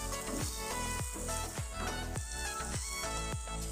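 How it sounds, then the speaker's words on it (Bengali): Paneer bhurji sizzles steadily in a hot pan with ground spices, a dense continuous frying hiss with regular scraping stirs cutting through, close and loud with no talk. "আরও 2 থেকে 3 মিনিট এটাকে ফ্রাই করে নিয়ে গুঁড়ো মশলাগুলো অ্যাড করব।"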